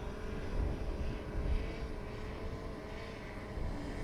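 A drone passes overhead near a rocket launch site, heard as a steady, broad engine drone with a faint whining tone that swells and fades slightly, continuous and at moderate distance.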